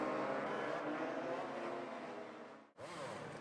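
Motorcycle engines roar loudly and continuously on the starting grid at Jerez in MotoGP 20, a dense sustained drone that cuts out abruptly near the end before revving back up.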